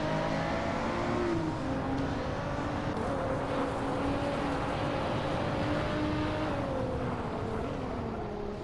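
Ford GT40 race car engines in a racing video game, a continuous moderately quiet whine of several cars whose pitch rises and falls together as they accelerate and ease through corners.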